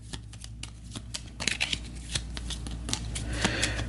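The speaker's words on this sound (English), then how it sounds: "let's give this a shuffle, the turn order deck" A deck of cards for the turn order in the board game Aeon's End being shuffled by hand, with quick rapid riffles building in loudness, close and alone.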